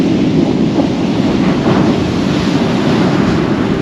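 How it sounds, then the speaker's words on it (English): Sea waves rolling in as lovely rollers onto the beach at Tunstall on the UK coast, a steady, loud, continuous wash of surf and rumble with wind noise throughout and no voices. "See a few little shots of them lovely waves, guys."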